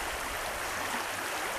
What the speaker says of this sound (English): This is kind of the head of the river, which we always considered it a creek